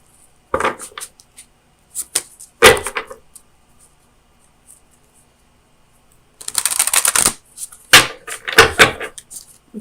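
An Oracle of Visions oracle deck by Ciro Marchetti is shuffled and a card drawn, giving close, dry papery riffles and flicks in two short bursts near the start, then a longer busier shuffle toward the end, with quiet gaps between.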